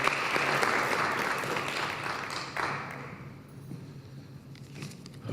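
An audience applauds at the 2022 Africatown Black Graduation ceremony as a speaker is brought up. Loud, dense clapping starts at full strength, then thins out and fades to scattered claps.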